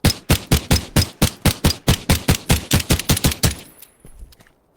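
Rapid video-game gunfire, about sixteen sharp evenly spaced shots in a steady automatic burst, loud and close, followed by a brief fading tail and a faint high whine.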